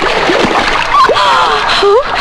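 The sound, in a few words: person taking a dip in Ganges river water, splashing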